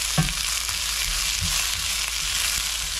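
Fresh snow peas are stir-fried in hot oil with no water, giving a loud, steady sizzle and hiss, with occasional soft scrapes and knocks as they are stirred.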